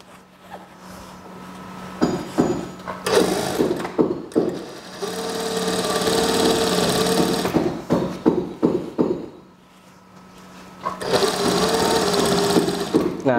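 A sewing machine stitches an elastic-waist skirt in bursts of rapid mechanical chatter, with short runs and pauses and a clear gap near the middle before stitching resumes, close and loud.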